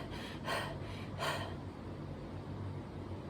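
Two slow, deep breaths drawn in audibly, close to the listener, in a dance class setting, each a soft airy rush separated by a pause, with a quiet room behind.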